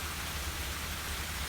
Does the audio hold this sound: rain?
yes